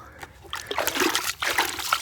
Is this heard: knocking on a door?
no